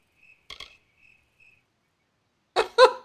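A cricket chirps faintly in the fantasy video game Kingdoms of Amalur, a few thin, spaced chirps in near silence, broken by short vocal sounds, with louder bursts near the end.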